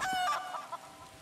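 A chicken in The Elder Scrolls Online video game gives a short burst of loud squawking clucks, heard alone.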